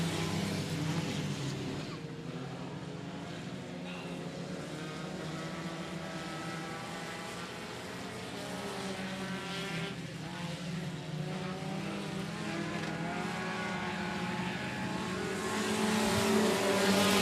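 Pack of Outlaw Mini Stock race cars roaring off at the green flag on a dirt speedway oval, a continuous loud wash of engine noise that swells toward the end, with announcer talk faint beneath.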